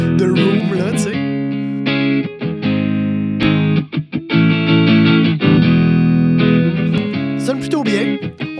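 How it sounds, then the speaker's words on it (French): A distorted electric guitar through an amp with a realistic room reverb, loud chords ringing and decaying into a roomy tail, played in bursts with brief gaps. "Ou une autre réverb, une réverb réaliste de room, là, tu sais."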